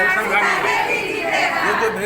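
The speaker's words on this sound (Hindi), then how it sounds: "ये जो भीड़ है" A crowd of villagers chatters steadily at a panchayat mukhiya election gathering in Mahadev Bathan, a dense, continuous murmur of many overlapping voices close by.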